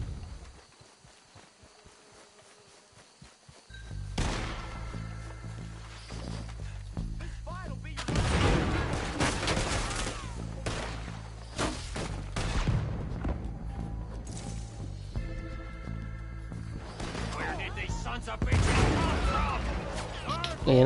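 Shotgun blasts ring out during a Red Dead Redemption 2 gunfight, several loud sharp bangs scattered irregularly among other gunfire and clatter, with a quieter start before the shooting builds.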